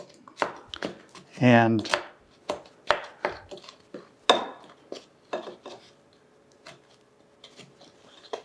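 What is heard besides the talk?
mixing dry muffin ingredients together in a bowl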